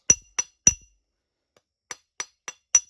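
A knapping tool flaking a red glass arrowhead gives crisp, ringing glassy ticks, three close together, a pause, then four more, each short and near in otherwise silent surroundings.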